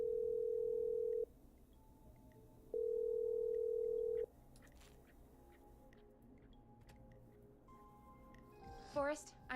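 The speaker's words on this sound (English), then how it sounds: "Okay, I'm dialing." In the game Killer Frequency, a steady telephone dial tone sounds in two long bursts separated by a pause, followed by quiet line noise and a few faint electronic tones at the end.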